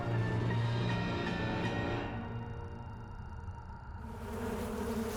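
Flies buzz in the horror game Sucker for Love, a droning insect hum that is loud at first, then thins and fades before swelling back near the end.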